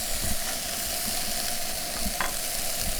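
Leftover taco meat sizzles and gets stirred with scrambled eggs in a pan, with a steady soft frying hiss and occasional scrapes of the spatula, heard up close with no talking.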